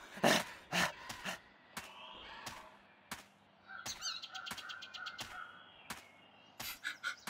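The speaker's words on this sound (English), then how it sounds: "Bird." A bird caws repeatedly in a forest scene of the video game The Longest Journey, harsh cries spread across several seconds with a few sharp clicks, fairly quiet and with no talk over it.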